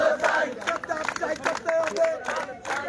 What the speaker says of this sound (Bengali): আমরা দেখছি যে লালমনিরহাট বুড়িমারি মহাসড়ক অবরুদ্ধ করে সেই তাদের বিরুদ্ধে স্লোগান দিচ্ছে